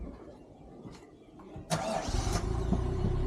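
A Maruti Baleno's engine cranks and catches, then settles into a steady, close idle rumble after a quiet start.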